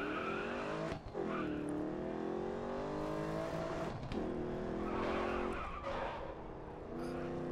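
Open-wheel race car in the Grid Autosport video game, engine howling loud and steady while locked tires skid and squeal, with a couple of brief drops as the car slows.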